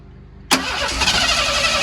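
An engine with a freshly rebuilt carburetor fires up abruptly after a quiet pause, catching at once into a loud, steady, rough-running roar that holds close and alone.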